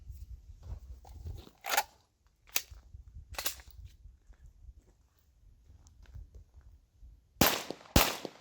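Glock pistol firing with a KCI USA magazine: a few sharp, loud gunshots spaced irregularly, with a rapid pair at the end, separated by quiet handling and shuffling noise.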